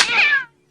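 A single cat gives one clear, fairly loud meow, rising then fading over half a second before near silence.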